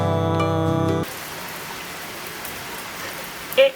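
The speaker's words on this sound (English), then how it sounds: "I love it when it rains like this." Heavy rain pours and patters outside in a steady hiss once a burst of music cuts off, with a brief louder knock near the end.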